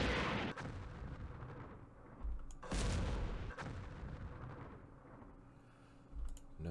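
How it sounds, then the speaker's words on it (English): A tank fires in a Campaign Series Middle East wargame during the Battle of Jerusalem, with loud booming gunfire blasts that roll out into a rumbling tail and a few separate shots spaced over several seconds. "Let's fire with our lone tank and commander here."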